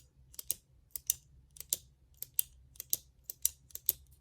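A Pilot Acro 1000 pen is clicked repeatedly, crisp paired clicks close up at a steady rhythm, about eight press-and-release pairs, crisp against a quiet background.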